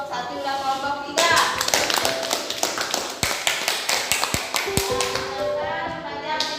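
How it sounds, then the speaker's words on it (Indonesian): Classroom applause for student groups one and three after a presentation: a burst of scattered, overlapping hand claps and taps lasting several seconds, with faint tonal sounds in the background. "beri aplaus dulu ke kelompok satu dan kelompok tiga"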